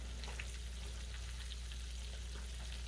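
Slices of green tomato sizzle in a frying pan, a steady crackling hiss with small pops throughout, close and unbroken, over a low hum.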